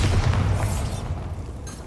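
Bombarda spell explosion in Hogwarts Legacy, a loud broadband boom that fills the sound at once and then decays into a rumbling, crackling tail.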